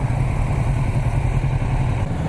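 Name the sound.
Kawasaki motorcycle engine idling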